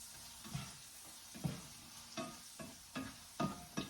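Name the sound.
bananas being stirred in a frying pan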